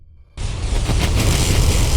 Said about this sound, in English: he goes outside and witnesses a huge explosion which knocks him out